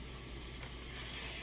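Food sizzling in frying grease while sautéing vegetables for lasagna, a dense, steady hiss close by with no break and no voices.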